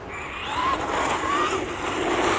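Electric motor of a Traxxas Stampede 2WD RC truck being broken in, a rising whine with shifting high pitched tones over a low rumble, close and continuous.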